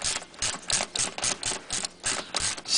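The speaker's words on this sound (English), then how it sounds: "So I'm just going to go ahead and loosen these right now" Close, quick ratcheting clicks in uneven bursts as a hand ratchet loosens the nuts on the underside engine shield of a 2011-or-later Ford Mustang GT during an oil change, with no talking.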